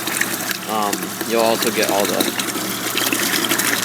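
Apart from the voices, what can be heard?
water and coolant flowing from a garden hose through the cooling system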